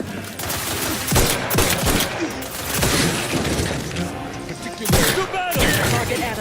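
Gunfire in the video game Outer Worlds 2 rattles out in dense, rapid volleys. Sharp louder cracks punch through near the start and again around the middle, with faint voices underneath.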